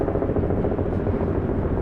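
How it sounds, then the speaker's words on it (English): A helicopter over the Manhattan Bridge in New York City gives a steady, dense rotor rumble, fairly loud and continuous for the whole moment, with no talking. "a beautiful New York City subway going across it as we speak, and a helicopter over top"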